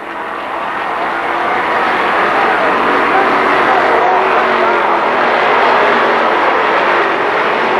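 Stock cars race at Kil Kare Speedway, a loud sustained engine roar swelling in and holding steady as the pack thunders down the back straightaway, close and continuous.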